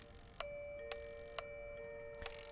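A ding-dong chime from the airport management game SimAirport rings again and again, with bright bell-like tones struck in sequence over a steady background hum.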